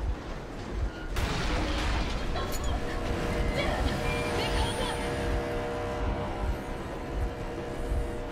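In Metro Exodus, a boat engine drones steadily with a loud, continuous rumble and wash of water, beginning with a sudden onset and running throughout.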